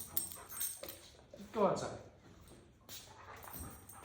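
A dog near a boat trailer whimpers and yips in short, high whines with a louder cry in the middle, fairly close, while a person speaks briefly.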